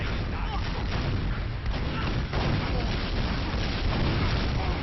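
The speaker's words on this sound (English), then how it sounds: "Rockets trade back and forth on top." Dense, continuous rocket explosions and gunfire from a Team Fortress 2 competitive match on cp_snakewater, loud and heavily layered with no pauses.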